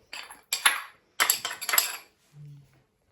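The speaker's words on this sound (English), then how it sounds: "we're just going to give those a bit of a poundaroo in the pounding device" Mountain pepperberry and orange rind are crushed in a pounding device, giving several sharp, clattering strikes in two quick bursts, followed by a short low hum.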